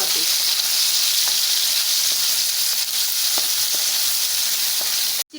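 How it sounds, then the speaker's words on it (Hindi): Chicken pieces fry in a pan with browned garlic and ginger, producing a loud, constant sizzle with occasional faint clatter before it cuts off abruptly. "अब मैं चिकन डाल के भून लूँगी"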